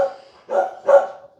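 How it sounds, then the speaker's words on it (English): Dogs bark a few times in a backyard, three short barks spaced close together, moderately near and unaccompanied by talk. "Dogs are barking, they're saying hello"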